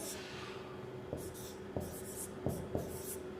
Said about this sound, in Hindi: मैं लिख देता हूं एक बार यहां पे